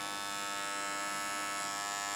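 An electric shaver trims through thick sheepskin wool, a steady close buzzing hum held without break and no voices.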